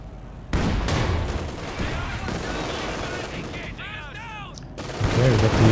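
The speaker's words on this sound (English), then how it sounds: "Big damage from the double anti-tank guns though." Anti-tank guns fire in a Company of Heroes 2 battle, heavy booming shots amid rapid gunfire and explosions, loud and dense, with a commentator talking over the action.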